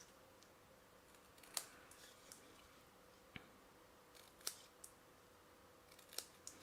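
Sharp scissor snips cutting paper tabs for a diagonal-closure ornament gift box, four or five separate crisp cuts spaced unevenly over a quiet room background.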